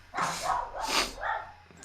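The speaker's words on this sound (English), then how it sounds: "whose dog is going sicko mode right now?" A house dog guarding against someone at the door lets out a few muffled barks, sounding somewhat distant and softened, as if from another room.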